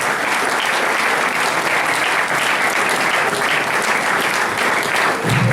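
A large audience at an AFDC political party congress applauds party members and allies with dense, loud, sustained clapping that continues steadily from start to finish.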